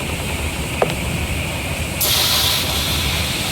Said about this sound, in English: Now the steam is coming out here instead of upstairs